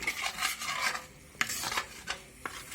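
Makhani gravy is stirred in a pan with a spoon, giving a steady rasping scrape with a few sharp knocks against the metal, close and continuous, with no talking.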